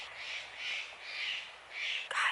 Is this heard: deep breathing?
no